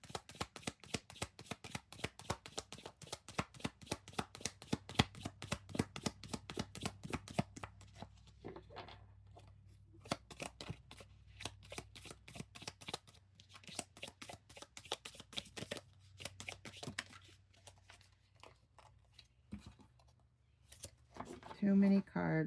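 A deck of oracle cards shuffled by hand, with rapid rhythmic riffling flutters close by, slowing into softer scattered card slaps and taps toward the end.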